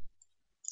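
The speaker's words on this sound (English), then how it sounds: "just click on the delete on the keyboard" A single keyboard delete key pressed once, a faint short click near the end of an otherwise quiet moment.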